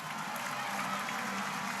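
Home crowd of baseball fans at a minor-league game rising to their feet, cheering and applauding in a steady, dense roar that fills the whole moment without letup.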